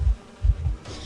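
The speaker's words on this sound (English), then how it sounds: "I need to hide behind the bees." Swarm of bees from the Entomologist in Identity V, a low droning buzz that swells and fades in repeated pulses, loud and close, with no talk over it.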